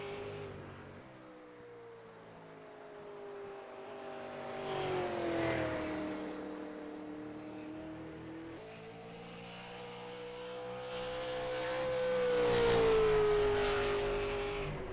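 A stock race car at ISM Raceway runs a qualifying lap under night lights, its engine droning at a distance, then rising and falling as it swings through the turns, with two louder swells as it passes nearer.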